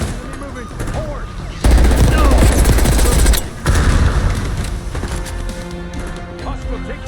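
Rapid automatic gunfire and heavy impacts erupt in a Call of Duty Black Ops 6 combat scene, loud bursts crashing together over a constant battle din, followed by fainter scattered shots and clatter.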